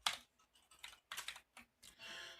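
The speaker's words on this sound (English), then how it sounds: "Man, what is going on with my typing?" Typing on a computer keyboard: close, quiet bursts of rapid clicking keystrokes in uneven runs with short pauses between, no talking.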